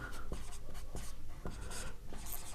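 Chalk or marker writing an equation on a board during a maths lesson, a series of scratchy strokes and taps in uneven rhythm, close and quiet, no talk.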